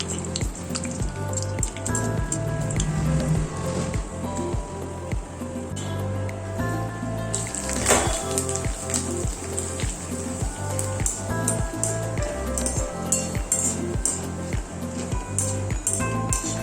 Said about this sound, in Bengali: কিছুটা ভেজে নেব।